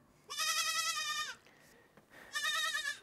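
A goat in Morocco bleats twice, close and loud, with a long wavering cry and then a second bleat after a short pause.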